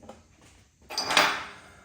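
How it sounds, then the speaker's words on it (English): A small tool is knocked into an exhaust stud on a Harley-Davidson Shovelhead engine in a workshop, giving a short run of close, fairly loud metallic taps and clatter after a quiet start. "I'll knock my little tool in"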